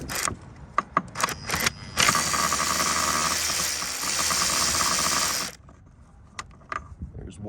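A hand ratchet clicks on 10mm bolts of an Audi A4 core support, first in short spaced bursts, then a long, rapid, loud run of clicking, then a few sparse clicks close up.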